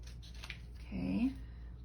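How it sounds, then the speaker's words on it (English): Scissors cutting paper for a handmade card, a single short, close snip after some faint rustling, quiet and alone. "I'm going to do just a little special cutting"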